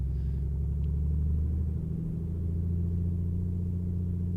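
A steady, loud engine drone from an A2A Comanche held at 1,800 RPM for its run-up in Microsoft Flight Simulator 2020, a continuous low rumble with no one speaking.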